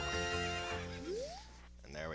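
A horse whinnies in Zelda Ocarina of Time, a rising synthesized neigh that fades out, with game music and a speaking voice layered over it.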